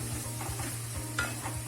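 Prawn fry with tomato stirred in a hot pan: a low, continuous sizzle with repeated soft scraping strokes of the spoon, close and even, with no voices.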